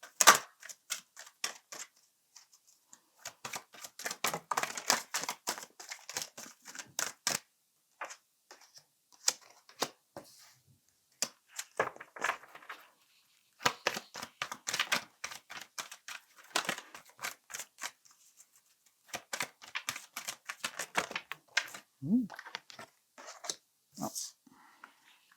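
Oracle cards are gathered and shuffled by hand in quick bursts of crisp flicking, riffling and tapping, broken by brief quiet pauses, close and fairly soft.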